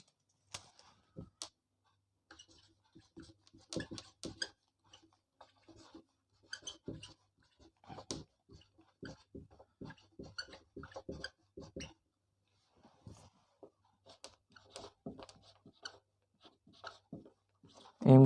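Red marker writing on a board in a physics class, a quiet, close series of short scratchy strokes in irregular bursts with brief pauses between words.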